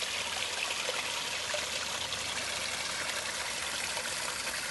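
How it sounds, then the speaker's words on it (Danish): A small garden waterfall splashes and trickles steadily, a continuous close rush of falling water with no voices. "Og så er vi heroppe ved et andet vandfald."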